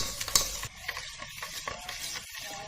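Jaggery is beaten in a bowl for a wheat flour and dry fruit Christmas cake, giving close, rapid scraping and tapping strokes in an uneven rhythm, with a sharper clink near the start.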